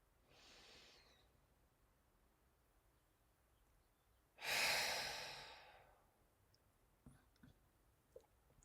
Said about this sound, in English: We breathe in through the nose and out through the mouth.